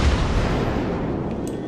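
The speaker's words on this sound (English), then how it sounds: "We are now opening fire on the Cleveland" Naval gunfire from a ship in World of Warships, the French battleship Dunkerque firing on a Cleveland cruiser: a heavy, sustained boom that rolls and fades slowly, with no voices.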